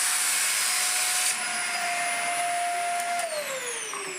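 A Dyson UP15 upright vacuum cleaner runs with its wand removed for an airflow test, a loud steady motor whine and rushing air that holds constant, then drops in pitch near the end as the motor slows.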